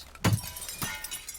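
Broken glass pieces shattering and clattering during a teardown, one sharp loud crash followed by a second smaller clink and lighter scattered rattles, close and alone.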